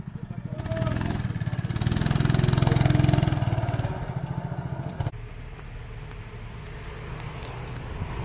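A go-kart engine running, a loud buzzing, rapidly pulsing drone that swells as it revs, then drops abruptly to a steadier idle-like putter.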